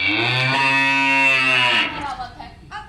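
Shyama the cow gives one long, loud, close moo lasting nearly two seconds, followed by a quieter moment.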